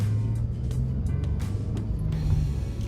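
A 2005 Acura TL with a manual transmission driving along, a steady low engine hum with faint clicks and a slight change in pitch as a gear shifts, heard from inside the car.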